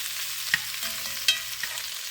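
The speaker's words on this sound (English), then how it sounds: "the oil is going to be on all of the cabbage, so I can saute it" Cabbage sauteing in oil in a pan, a steady soft sizzle with a few clinks and scrapes of stirring, close and with no talking.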